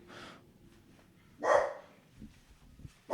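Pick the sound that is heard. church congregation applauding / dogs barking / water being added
dogs barking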